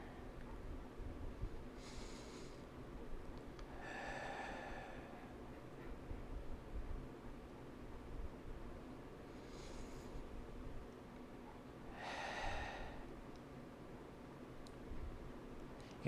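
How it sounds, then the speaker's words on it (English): Slow deep breaths during a yoga warrior pose, with four soft airy inhales and exhales spaced several seconds apart in a quiet room, close and faint. "taking a few deep breaths here"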